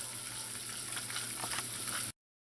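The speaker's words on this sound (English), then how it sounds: "the sugar is starting to caramelize" Sugar caramelizing in a pan for eggless flan gives a steady, hissing sizzle with faint crackles and a soft scrape of stirring, then cuts off abruptly.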